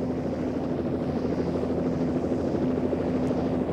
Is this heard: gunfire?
no